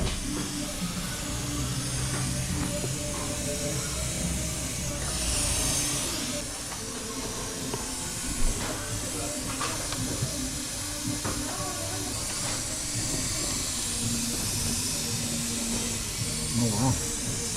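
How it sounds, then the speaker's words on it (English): Steam hisses steadily out of the engine bay of a green VW GTI Mk4, a broad continuous rush with occasional knocks and rattles. Voices talk faintly underneath. "Oh wow, steaming."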